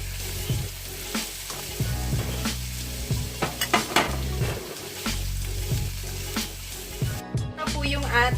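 Hotdog slices sizzle and spit in a frying pan with onion and garlic, a constant loud crackle broken by clattering stirs of a utensil against the pan.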